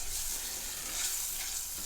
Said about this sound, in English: So let's get that mixed around.